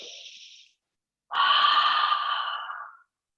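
A deep yoga breath: a short soft inhale tails off, then after a pause comes a long, strong, breathy exhale of about two seconds, close and clear, with no talk over it.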